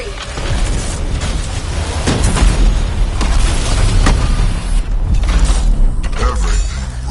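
Explosions going off in the video game Anthem, a dense, loud stretch of rumbling booms and mechanical clatter with several sharp blasts layered over heavy low-end noise throughout.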